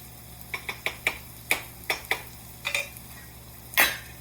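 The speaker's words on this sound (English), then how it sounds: "That's kind of boiling. Let's give that a stir." A spoon or utensil stirs a pot of boiling salsa roja, making a string of about a dozen sharp clinks and taps at an uneven pace, close up and fairly quiet over a low background hum.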